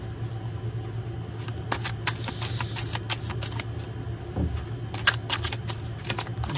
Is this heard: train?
no